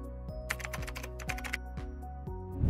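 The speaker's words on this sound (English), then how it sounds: "Type system preferences in Spotlight" Rapid keystrokes on a Mac computer keyboard, someone typing a short phrase into a search field, crisp close clicks in a quick uneven burst with no talking.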